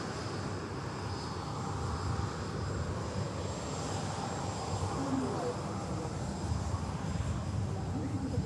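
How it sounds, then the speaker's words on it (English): A Hainan Airbus A330-900neo taxiing out at Manchester Airport gives a steady, broad jet-engine roar with a thin high whine, continuous and fairly close, with some voice in the background. "beautiful Hainan A330 900 Neo on the taxi out now"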